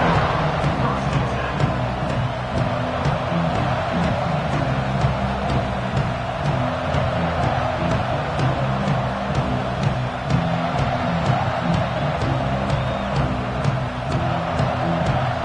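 A stadium crowd in the NCAA 26 college football video game keeps up a loud, constant roar with no letup throughout.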